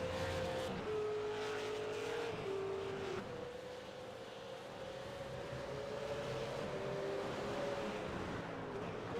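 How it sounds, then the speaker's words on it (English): Mazda race car engine at Donington Park during a West End Mazda AOSC round, droning loud and steady with rising and falling pitch as it accelerates and shifts, with other cars and tyre noise close by throughout. "Looking back at that very angry Zuba Racing car."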